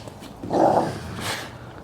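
Puppy Buffy lets out a short playful growl while roughhousing with another dog, one close, moderately loud rumbling snarl followed by softer scuffling and a faint second grumble.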